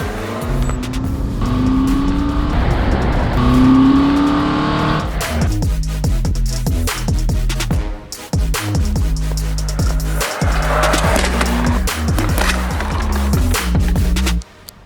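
A Toyota Glanza takes a tight corner at about 50 km/h, loud engine roar and rolling tyre noise running continuously throughout, with a few sharp dropouts near the end.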